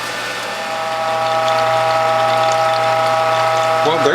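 A Whole Health Foundation juicer, used for garden harvest juice, runs with a loud steady mechanical hum and whine that builds in the first second, then holds even before a brief shift near the end.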